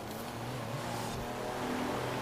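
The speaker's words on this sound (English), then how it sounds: "Yeah, there goes the Ferrari." A Ferrari race car in the video game Forza Horizon 4 roars past with a steady engine drone that swells briefly, under a broad wash of road and wind noise.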